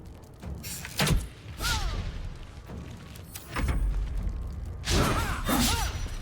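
Baldur's Gate 3 combat sounds as Sefri is shot at: several heavy thuds and whooshing impacts in bursts, loud and close, with swirling magical tones between them and no talking.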